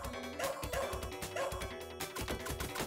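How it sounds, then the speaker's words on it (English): Repeated barking from a ninja's dog companion in the arcade game Shadow Dancer, clipped yips over busy synthesized game music and sound effects, no talking. "We're gonna throw our dog to deal with this guy."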